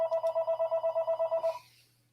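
A telephone rings indoors with a rapid warbling trill, about a dozen quick even pulses in one loud burst before it stops abruptly, leaving a faint low hum.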